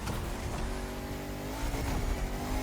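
A car in the racing video game The Crew Motorfest whines at high revs through a turn, engine pitch sweeping upward as tires squeal, loud and continuous with no talking.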